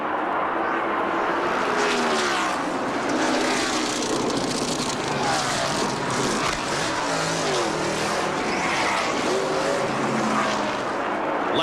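A 1992 NASCAR stock car rolls slowly down pit road at Atlanta during the Hooters 500, its engine a steady, continuous drone mixed with crowd and track noise, with no gaps throughout.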